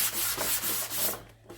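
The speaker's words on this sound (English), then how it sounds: "Now I'm just going to give the top a smooth sand." Steady back-and-forth rubbing of 240 grit sandpaper across a painted wood furniture top, a close, dry scratching hiss in rhythmic strokes that fades out near the end, with no speech.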